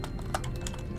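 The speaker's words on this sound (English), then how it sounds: "I was a very fast typer, not so much a very accurate typer, so excuse my sloppy typing" Fast clattering keystrokes on a computer keyboard, a steady dense patter of clicks over a low background hum.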